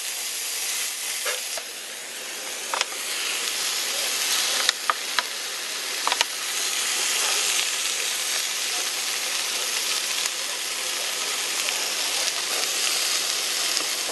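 Lamb fillet sizzles steadily in a non-stick pan, a continuous bright hiss broken by a few faint clicks and taps, close and fairly loud with no talk.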